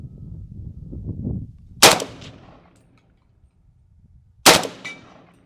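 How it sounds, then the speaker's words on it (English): Two sharp, loud rifle shots from a Palmetto State Armory 300 Blackout Krink fresh out of the box, spaced about three seconds apart, each with a ringing decay, after a brief murmur of voice at the start. "these are the first 5 rounds out of the Palmetto State Armory 300 Blackout Krink"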